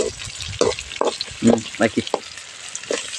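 Capsicum sizzles and is stirred in a hot pan for chitranna spiced rice, with spatula scrapes and clinks over a continuous frying hiss, while someone speaks briefly nearby.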